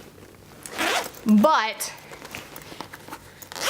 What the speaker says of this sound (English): It does fit, and it will zip closed.